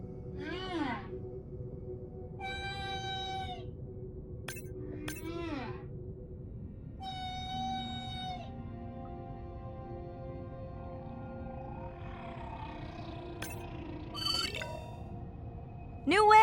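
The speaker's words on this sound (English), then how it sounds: "New whale! We'll designate this one M4, because why mess with a good thing? The sounds don't sound like the prior songs." Whale social sounds in the underwater game Beyond Blue: a series of tonal whistles, chirps and squeaky calls, some rising and some falling, spaced over steady low ocean ambience.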